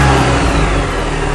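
A car engine pulls away under steady acceleration, a continuous close rumble that rises slightly in pitch for just over a second with no voices.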